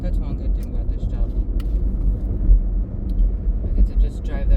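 A car drives along the road, its engine and tyre rumble steady and close throughout, with a deep low drone and small bumps but no sharp events.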